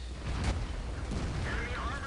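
A shell slams into a KV-3 Russian heavy tank in World of Tanks, fired by an enemy medium tank: a heavy explosive boom near the half-second mark, rumbling low under the game din, with someone talking over it.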